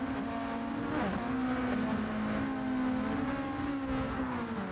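Race cars in Gran Turismo 7 roar together at a restart, engines droning loud and steady with pitch rising and dipping through gear changes and one brief downshift swoop, close and continuous with no talk.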